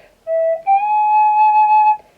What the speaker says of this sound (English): But E minor is very comfortable on the D penny whistle.